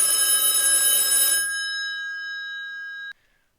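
A black desk telephone on an end table rings with a bright metallic bell clatter, then its tone hangs and fades before a sharp click cuts it off; no talking.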